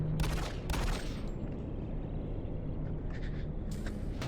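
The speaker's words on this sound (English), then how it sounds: "Machine gun." Machine gun fire in the DOOM 3 video game played in VR, rapid bursts of shots over a dense, loud backdrop of game noise, with the firing heaviest near the start and again toward the end.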